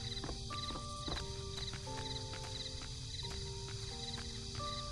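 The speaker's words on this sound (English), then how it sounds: "Why do I hear suspicious footsteps behind me?" Slow, soft footsteps creep behind the player in the mystery game Murders on the Yangtze River, set against a night backdrop of chirping crickets and faint ambient tones.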